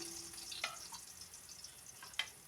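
Onion and tomato sauté in hot oil, a faint, quiet sizzle with a couple of brief clinks or scrapes, no talking.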